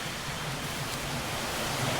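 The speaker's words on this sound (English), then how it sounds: "there is a little background noise because there is a water down here, little waterfall actually" Rushing water from a very small nearby waterfall, a dense continuous broadband roar that holds steady and swells slightly toward the end, with no voices.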